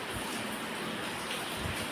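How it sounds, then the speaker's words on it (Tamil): Heavy rain pouring down steadily in a dense, even hiss with no breaks, close and loud throughout. "மழை ரொம்ப ஹெவியாக கேட்குது போல கேட்குது"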